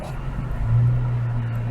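A 2022 Toyota 4Runner TRD Pro makes a turnaround on grass, its engine giving a steady, close, low rumble that swells slightly midway, with no talking.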